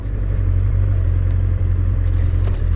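Honda CB1100 motorcycle riding up a curb, its engine a steady loud low rumble close by with a couple of faint bumps and clatters.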